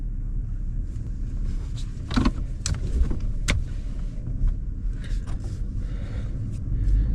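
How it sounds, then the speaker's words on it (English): A truck is maneuvered out of a tight spot, its engine rumbling low and steady close by, with a few brief clicks and knocks over the drone. "Hard getting this whole truck out of here"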